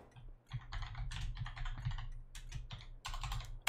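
Quick, fairly close clicking of a computer keyboard as a train station name is entered while playing Factorio, with irregular bursts of keystrokes and short pauses and no talking.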